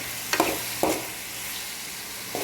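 Garlic, onion and tomato sautéing in hot oil, a constant crackling sizzle broken by a few quick stirring scrapes, close and without talk.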